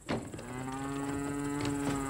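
A cow moos in one long, sustained low call lasting about two seconds, close and clear, on a Latvian farm where the cows are due for milking.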